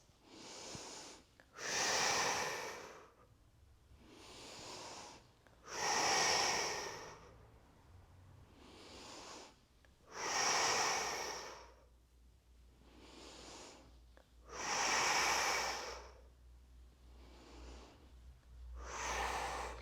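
Slow, steady breathing during a yoga session for gut health, each long breath rising and fading in a regular cycle of about five repeats over twenty seconds, close and clear with no talk.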